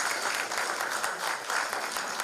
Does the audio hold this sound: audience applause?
yes